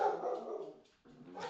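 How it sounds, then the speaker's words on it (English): Dog barking excitedly indoors in the background, a loud burst of yelps and barks at the start, fading briefly, then picking up again toward the end. "Dog's absolute ballistic in the background"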